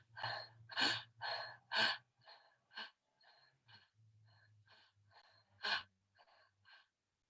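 Deep audible breaths in and out during a pelvis and coccyx exercise, several loud close gasping inhales followed by softer, quieter exhales and breathy puffs, with no speech.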